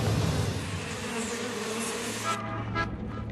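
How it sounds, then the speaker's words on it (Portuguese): Huge swarms of locusts hovering over a city make a dense, continuous buzzing drone. It stays loud and steady throughout, with a low hum beneath it, and no voices are heard. "São os enormes enxames de gafanhotos que circulam sobre a cidade"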